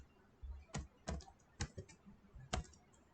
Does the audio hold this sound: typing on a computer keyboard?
yes